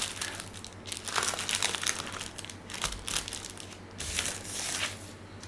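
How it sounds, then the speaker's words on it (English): Camembert cheese being pulled out of its paper wrapping, a close run of crinkling and rustling in irregular bursts over a low steady hum, with no talk. "and take it out the wrapping"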